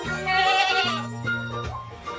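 A goat bleats in a few wavering calls, close and clear, over a faint background.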